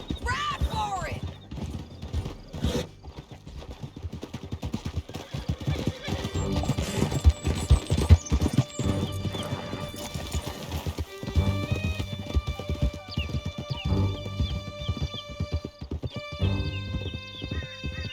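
Horses galloping in Red Dead Redemption II: a loud, rapid clip-clop of hooves runs steadily throughout, with neighs and whinnies rising above it and music and voices mixed in.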